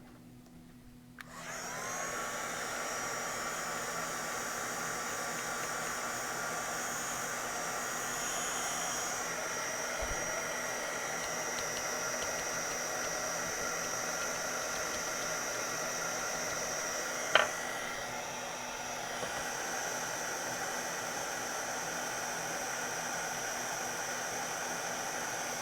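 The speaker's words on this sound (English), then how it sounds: "Let me get a heat tool." An embossing heat gun blows steadily for about 25 seconds, a loud continuous whooshing hum with no talk over it and only a small click partway through.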